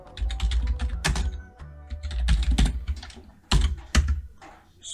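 Quick bursts of keystrokes on a computer keyboard as a formula is entered, close and crisp with irregular clusters of taps and short pauses.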